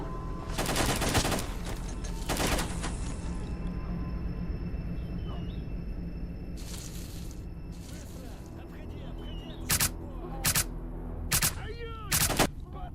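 Bursts of AK-74U fire ring out in S.T.A.L.K.E.R. Lost Alpha, a video game: loud clustered volleys early on, then a run of short sharp single shots near the end, with game ambience between.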